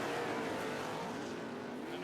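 Pro 4 off-road race trucks at a 2007 CORR round roar together at full throttle in a loud, continuous engine drone that holds steady for about two seconds.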